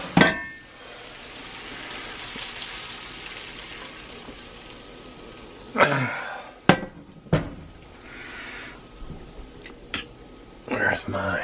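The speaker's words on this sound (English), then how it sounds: "What I want to do is I want to get the ground beef in here." Ground beef sizzles in a cast iron Dutch oven with a steady, broad hiss, then gives way to sharp clanks and scrapes of a utensil against the pot.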